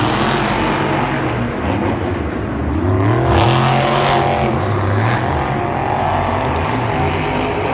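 Monster truck engines roar loud and close as Megalodon and Wolf's Head race side by side at a Monster Jam event in Glendale, with rising and falling revs and layered engine drone throughout.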